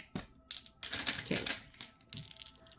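A handful of white dice rattle together and tumble out, making bursts of small hard clicks and clatters that come in clusters and then scatter into a few lighter taps.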